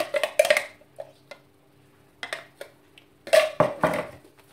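Minced steak worked together with ingredients in a bowl, scattered clinks and scrapes of a utensil against the dish in irregular bursts, with quiet pauses between, close and fairly soft.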